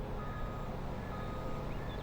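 A truck's reversing alarm beeps steadily while the truck backs up, close by over a constant engine rumble.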